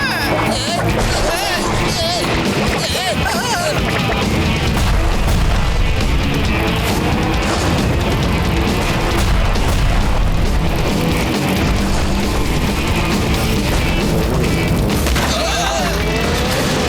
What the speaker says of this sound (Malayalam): ഇവർ ചെയ്യുന്ന അമ്പെല്ലാം ബ്ലാസ്റ്റ് ആയിക്കൊണ്ടിരിക്കുന്നത്